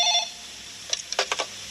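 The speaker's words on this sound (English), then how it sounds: "Joanna answers the phone." A telephone in a doctor's office rings, one brief tone at the start followed by a few short clicks and knocks, near and alone.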